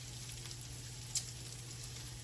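Cauliflower sizzles in a hot skillet, a soft, even crackle and hiss with a faint low hum beneath and one brief sharper pop near the middle.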